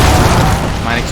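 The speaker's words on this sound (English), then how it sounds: "Mine exploded" A mine explodes in the video game Darksiders II, a loud, dense boom that fills the whole clip and slowly tails off, with speech mixed in.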